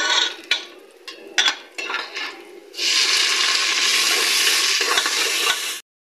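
Onions and spices in ghee in a pan: first a few scraping stirs and short crackles, then a loud, steady close sizzle of frying that runs for several seconds before cutting off.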